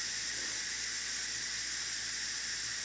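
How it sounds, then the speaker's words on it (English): An Instant Pot's pressure release valve vents steam in a steady, loud, high hiss that holds unbroken throughout, with no voices. "I'll use, you know, a tool to release the steam"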